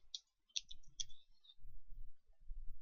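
Computer mouse clicking while working in AutoCAD, a handful of crisp, close clicks in quick succession at the start followed by quieter low thumps and handling noise.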